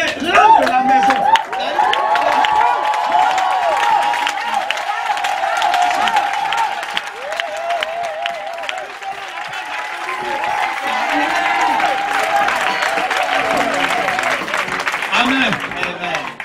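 A church congregation at a Sunday worship service applauds and cheers together, a dense sustained wash of clapping and crowd voices lasting throughout, with a voice speaking over it near the start.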